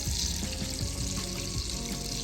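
Irish boxty potato pancakes frying in a pan, three at a time, with a loud, continuous crackling sizzle that stays steady throughout.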